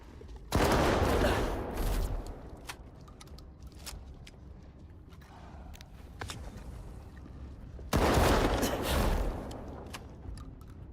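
Video game gunfire in bursts: two loud, dense volleys of rapid shots, one near the start and another around two-thirds through, with scattered single shots and clicks between them and no talk.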